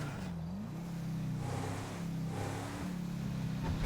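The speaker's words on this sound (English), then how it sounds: "who really wants to listen to this freaking engine?" An engine runs at a steady idle, a low rumbling hum with small wavering pitch changes, moderately close and somewhat faint, with no voices.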